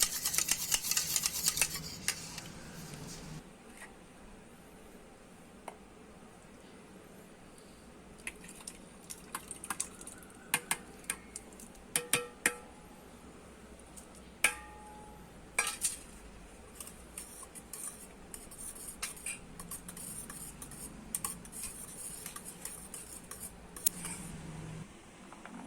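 Chopped fruits being stirred into raita in a bowl, with soft scattered clinks and taps of a spoon against the dish at close range, quiet and without talk.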